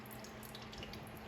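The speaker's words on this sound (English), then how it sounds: "That's a lot of water coming out of there." Water runs steadily out of a Honda HR17 push mower, a faint continuous trickle and splash with a low steady hum underneath, close and alone without talk.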